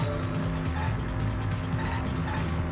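A taxi in the Danganronpa V3 video game drives with a steady, loud engine drone and continuous tire squeal, a dense, unbroken roar with a voice faintly underneath.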